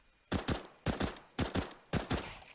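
Burst-fire gunshots from Counter-Strike: Global Offensive, four short sharp bursts of two or three rounds each, fired in an even rhythm with brief pauses between, close and punchy.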